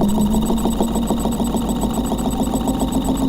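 A Bedini pulse motor coupled to a lenzless generator whirs and pulses in a fast, even rhythm, with a steady electrical hum and a high whine beneath the repeating clicks, loud and close with no voices.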